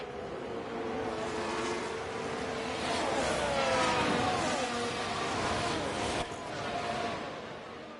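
Formula 1 car driven by Sainz on soft tyres passing in F1 Manager 24, a high whining engine sweep that rises and falls across several seconds, loud and blended with race ambience, while a voice talks over it.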